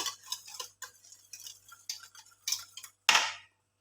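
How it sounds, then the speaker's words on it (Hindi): A spoon scrapes and clinks against a bowl in short, quiet, irregular strokes as sugar is stirred into a mayonnaise fruit salad, ending with one louder clatter. "तो इसे अच्छे से मैं कर लूँगी मिक्स, कि चीनी भी इसमें अच्छे से मिक्स हो जाए"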